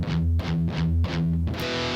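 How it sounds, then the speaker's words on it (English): Heavily distorted electric guitar pounds out a quick pattern of palm-muted E pedal tones, each chug punchy and loud, ending on a sustained ringing chord with no voices. "we play the E pedal tones"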